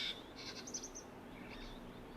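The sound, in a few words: many little birds at a waterhole in Lentori scrubland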